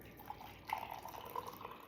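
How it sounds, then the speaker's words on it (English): Water poured into a glass for a powdered tea latte, heard as light, quiet trickling with scattered drips and small splashes, no voices. "So let's add our water"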